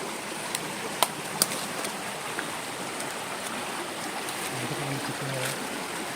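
A river flows nearby in a forest, a steady close rushing of water that fills the scene, with a few faint clicks and brief low tones over it.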